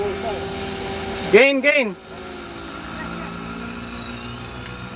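A T-Rex 500 radio-controlled helicopter on a test flight gives a steady, close, high-pitched rotor and motor whine throughout, with a short spoken exclamation partway through.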